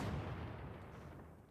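A special explosion from an Ogryn's shovel in Warhammer 40K: Darktide, a single heavy booming burst that decays over a second and a half, loud at first and fading.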